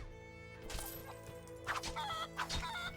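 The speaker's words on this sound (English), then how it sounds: "A chicken!" A chicken clucking in short bursts in the Lego The Lord of the Rings video game, heard over steady, tonal game music without any talking.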